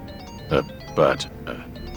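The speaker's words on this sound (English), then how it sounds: "Your phone's ringing." A mobile phone rings with a short electronic ringtone, three brief evenly spaced bursts about half a second apart, fairly close and clear over a quiet room.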